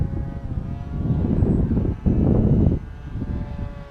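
FT Arrow RC plane flying at night, a steady buzzing electric motor and propeller drone that swells louder in the middle as it passes near, with some wind noise.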